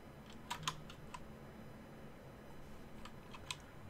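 Faint, sparse keystrokes on a computer keyboard tap out in small clusters over a low background hum, with no talking.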